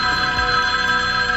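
A telephone ringing in the film Halloween, a loud, continuous bell ring with a sustained metallic tone and a faint low thud beneath it.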